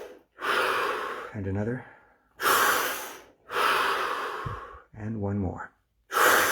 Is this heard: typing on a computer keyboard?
no